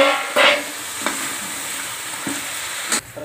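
Crabs dropped into a hot pan with turmeric for a home-style crab curry, a steady close sizzle of frying with a few sharp stirring clatters and spatter bursts, no voices.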